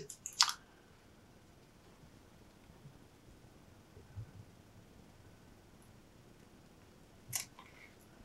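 Scissors snip excess strap on a 1/6 scale action figure: two short, crisp cuts, one near the start and one near the end, with faint handling noise between in a quiet room.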